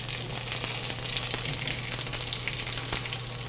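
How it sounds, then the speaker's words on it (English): Alaskan king salmon fries skin side down in a pan, a steady close sizzle with fine crackling pops and a low constant hum underneath, no talking. "All right, so we've got this salmon cooking."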